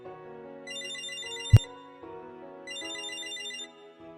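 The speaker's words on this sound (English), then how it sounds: "Oh, a phone call." A phone ringtone plays as a melodic electronic jingle in the video game Date A Live: Arusu Install. Two bright phrases repeat over a soft backing, with a sharp click partway through and no talking.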